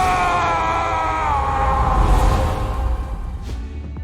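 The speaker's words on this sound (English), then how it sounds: "The flames burst towards Kratos as he screams in pain." Kratos screams in pain as flames burst toward him in God of War Ragnarök, a loud strained cry held over a roaring fire rumble that fades slightly toward the end.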